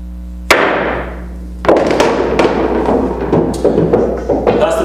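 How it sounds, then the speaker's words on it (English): Pool cue strikes the cue ball hard with maximum top and right spin, followed by a string of sharp clacks as balls collide and the cue ball rebounds off the table rails, loud and close with a faint room hum underneath. "The cue ball came around and it actually hit the long rail first"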